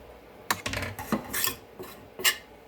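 Leftover sautéed vegetables spooned from a pan into muffin cups: a series of quiet metal scrapes, taps and clinks of a spoon against the pan, irregularly spaced and close, with no talk.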